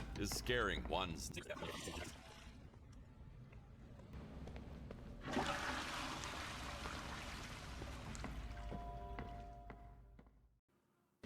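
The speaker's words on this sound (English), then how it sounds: "make sure we flush the toilet and we can leave the area" A toilet flushing in the video game Crime Scene Cleaner, a loud rushing, gurgling swell of water that surges midway and fades out, following some earlier watery sloshing.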